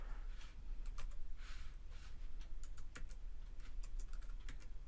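Quick, quiet clicking of fingers on a computer keyboard, irregular bursts of keystrokes with short pauses, close and alone over a faint room hum.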